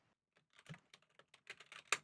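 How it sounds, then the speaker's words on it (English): Quick clattering keystrokes on a computer keyboard, irregular bursts of taps at close range, picked up faintly during an online game of Diplomacy. "Oh, you're typing that in."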